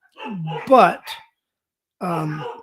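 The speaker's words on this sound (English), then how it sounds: "the dogs are a little excited" Excited house dogs bark at the door, a sharp close volley of barks and yips, a brief pause, then another loud bark, with no one talking.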